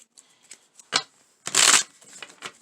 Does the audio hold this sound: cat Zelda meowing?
no